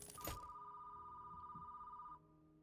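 A telephone ringing inside the video game Hellmart, a steady electronic ring tone that holds for about two seconds and then cuts off, faint beneath low background sound.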